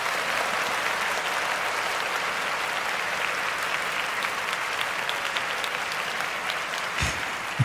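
A continuous round of clapping from a group carries on evenly for several seconds, moderately loud, with a brief thump near the end.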